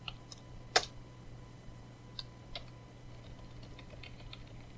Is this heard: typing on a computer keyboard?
yes